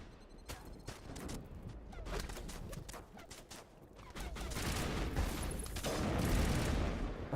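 Gunfire in Mass Effect on Virmire, rapid bursts of shots crackling in clusters, growing into dense continuous fire with booming impacts toward the end.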